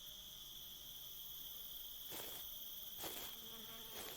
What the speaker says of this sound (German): Ah, das sind die Mücke, oder?